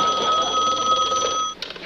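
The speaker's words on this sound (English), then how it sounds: "Your phone's ringing." Telephone bell ringing in a steady electric trill from a TV sitcom room, fairly loud and close, stopping abruptly near the end with a brief clatter as it is answered.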